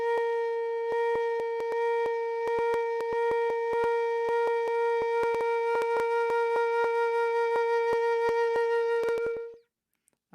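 Flute holding a sustained B flat with vibrato that starts slow and gradually speeds up, a steady pure tone with pulsing that grows quicker before the note stops, close and alone.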